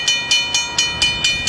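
A train passes through the town of Flemington with a steady, rhythmic clatter of wheels, the regular bursts repeating about four times a second, fairly close and alone without voices.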